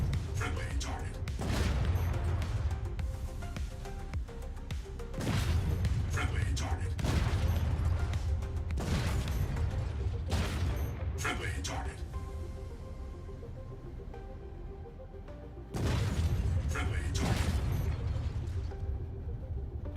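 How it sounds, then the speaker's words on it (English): Weapon fire slamming into a Paladin ship in the space game Star Citizen: a run of heavy, booming impacts in irregular bursts over a steady low engine drone, with short lulls between volleys. "That was 10 shots."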